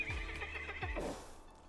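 Snow Strider's horse in a video game gives two loud, close whinnies in a row, each a descending neigh, over faint game ambience.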